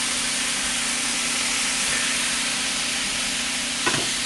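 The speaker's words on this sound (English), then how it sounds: "Soy sauce mixing with the sesame oil." Soy sauce and sesame oil sizzle hard in a pan while wings fry, a loud, steady hiss with a brief crackle near the end.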